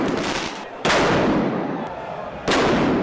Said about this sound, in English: You guys gotta stop with the fireworks.